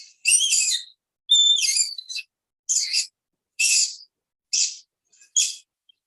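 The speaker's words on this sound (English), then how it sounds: "Here's a little skunk sound here." A skunk gives a run of short high squeaky chirps and twittering whistles in about seven separate bursts with brief silences between them, fairly close and alone.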